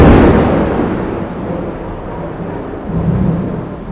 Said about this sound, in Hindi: काफ़ी ज़ोर से बारिश चल रही है बाहर।